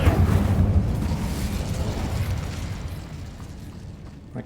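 The Incendio fire spell from Hogwarts Legacy erupts as a loud, roaring burst of flame, a full rumbling whoosh that slowly dies away over several seconds.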